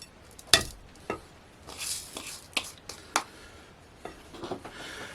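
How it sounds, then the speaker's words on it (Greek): A spoon scrapes and swirls through chocolate cake batter in a bowl, the batter for a fluffy vanilla cake mixed by hand with couverture truffle chocolate; soft, irregular wet strokes with a few sharper scrapes, close and quiet, with no talking. "Ανακατεύουμε."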